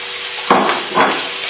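Sausages dropped into a hot pan with about a teaspoon of oil, a steady loud sizzle close up, with two brief swells as they hit and shift in the fat.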